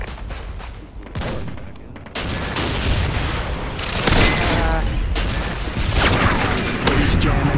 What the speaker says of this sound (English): Missile inbound.